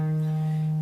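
A single sustained E flat tone, the root of E flat major, held steady with clean harmonics for under a second, alone with no talking.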